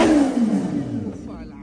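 A supercharged Kawasaki H2-series motorcycle engine, close and loud, blips and then drops, its tone sliding steadily downward as the revs fall away over about a second and a half.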